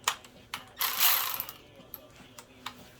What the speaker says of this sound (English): let's go ahead and proceed to tighten it all the way down